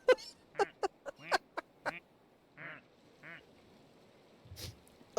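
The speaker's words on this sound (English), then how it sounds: "It's a migration of ducks." Ducks quack in a video game duck pond, a burst of several short quacks in quick succession followed by a couple of softer, lower calls and a final honk, fairly quiet and alone.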